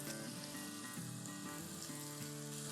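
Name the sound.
chicken jalfrezi sizzling on a charcoal stove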